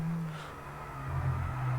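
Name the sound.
F1 car engine driving in F1 22 video game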